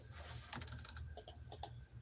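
Quiet, rapid clicking of keys on a computer keyboard, a burst of uneven taps with a sharper click near the start, close and alone with no voices.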